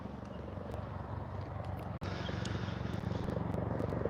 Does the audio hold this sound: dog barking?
no